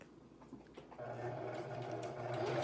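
A sewing machine stitches wefts onto a dome cap, its motor starting softly then running steadily and loudly at close range, with faint handling noises at the start.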